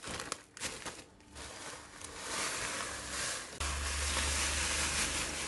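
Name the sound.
crushing biscuits for a no-bake cake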